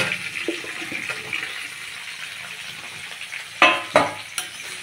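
Cauliflower fries in oil with cumin seeds, green chilies and a cinnamon stick, a soft continuous sizzle broken by a couple of louder clattering stirs toward the end, with no talking.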